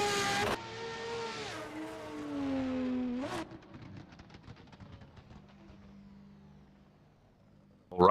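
A drift car at VDC 2024 Round 3 in Pascani, qualifying, revs hard with rising harmonics as the driver gets back on throttle, then drops to a rougher, quieter burbling engine note with a loud burst at the very end.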